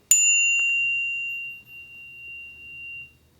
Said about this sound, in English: nice crisp ding with the whole thing vibrating.